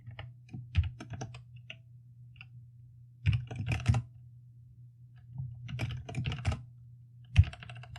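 Typing on a computer keyboard in clustered bursts of crisp key clicks separated by pauses, close and clear over a low steady hum, with no speech.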